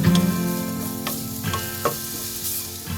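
Grated coconut fries in a pan over a low flame, a soft steady sizzle broken by a few scraping stirs of a spoon, close and moderately quiet with no voices.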